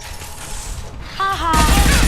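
Gunfire erupts in the Mass Effect 2 video game: mechanical clicks and a brief tonal whine give way to a loud, dense burst of shots that fills the final half second.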